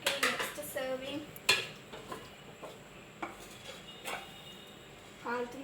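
A plate is picked up for serving upma-type food, with light clinks of dishes and cutlery and a few scraping stirs, moderately close, while someone talks quietly.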